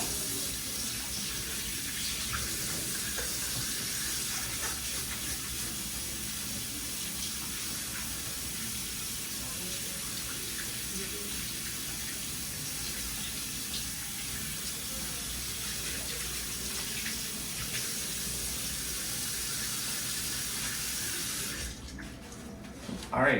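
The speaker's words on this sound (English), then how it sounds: "I'm just gonna wash my hands." Tap water runs steadily at a sink during handwashing, a constant broadband hiss lasting about twenty seconds before it shuts off near the end.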